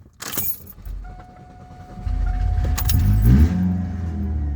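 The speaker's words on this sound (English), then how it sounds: "Sorry, I gotta run the car for a second." A car engine starts after a jangle of keys, then idles and revs with a steady low rumble, close and fairly loud, with no talking.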